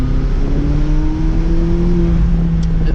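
A McLaren 570GT sports car accelerating: a loud, steady engine drone with tones slowly rising in pitch over a few seconds, heard from inside the cabin with constant road roar.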